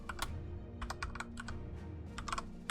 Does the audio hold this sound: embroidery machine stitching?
no